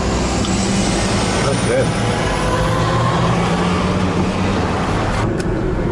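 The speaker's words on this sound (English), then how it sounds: "And there she goes in the Jeep" Jeep Wrangler YJ rolling along a road after a front end alignment, a steady broadband engine and road rumble filling the whole stretch, with a brief spoken remark over the top.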